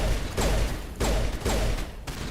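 Bursts of gunfire from the video game Mass Effect Legendary Edition arrive in four evenly spaced loud, close cracks about half a second apart, with no talking.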